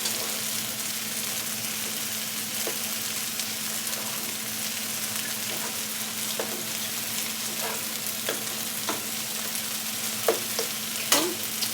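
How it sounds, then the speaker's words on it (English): Cilantro and lime being stirred into cooked rice in a pot, a steady scraping and stirring texture with soft spoon knocks, close and fairly quiet with a low background hum, no talking. "mix that cilantro and lime in really well"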